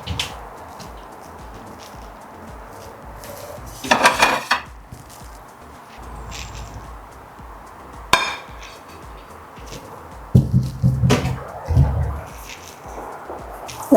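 Plates and pans clink and clatter in a home kitchen while Polish scrambled eggs are made, with a few sharp bursts of dish knocks against quiet background noise.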